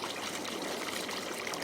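Steady broadband rush of flowing water in Farming Simulator 22 on the Elmcreek map, a continuous stream-like trickle with no talk over it.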